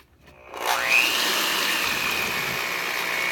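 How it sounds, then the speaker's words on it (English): An electric stand mixer whirs steadily as it combines cinnamon roll dough ingredients, starting up after a brief quiet moment and then holding a loud, even motor drone alone. "then I'm going to mix it with the mixer to combine it well"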